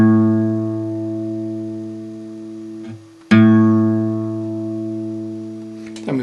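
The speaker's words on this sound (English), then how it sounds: "This is the A string" An open guitar A string, the fifth and second-thickest, is plucked for tuning and rings with a steady harmonic tone, briefly damped near three seconds and then struck again, loud and close, with no talking.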